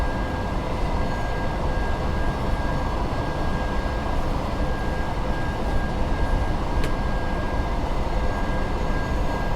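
A BR 147 electric locomotive running in a German train simulator on the Frankenbahn line, a steady loud rumbling drone of wheels and motors with a faint brief high tone partway through.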